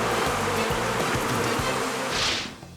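Live bees buzz loudly and continuously, a dense, close, wavering drone that fades slightly at the end.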